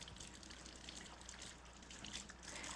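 A crepe batter bowl is rinsed under a running kitchen tap, a faint steady hiss of flowing water with slight splashing variations and no talking.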